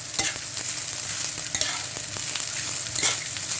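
Japanese fried rice is stir-fried and mixed in a hot pan, giving a loud, continuous sizzle broken by quick scraping and tapping strokes, with no voices.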